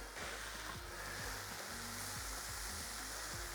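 Mushrooms frying with a pinch of salt in a pan, a steady close sizzle with a soft, continuous hiss and no talking.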